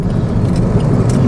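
A car rolls along a very narrow road, giving a steady, close, loud engine and tyre rumble with light rattling on top and no break, and nobody speaks.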